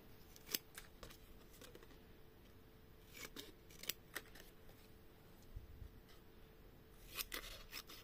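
Scissors snipping paper for a handmade Christmas Eve pop-up card, a few quiet, sharp cuts scattered across a hushed room with faint rustling between them.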